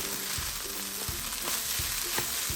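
Vegetable egg fried rice frying in a pan, a constant close sizzle with occasional soft knocks of stirring mixed in.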